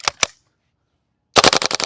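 A WellPro AK12 gas blowback airsoft rifle fires two sharp single shots, goes silent, then rattles off a rapid full-auto burst, loud and close.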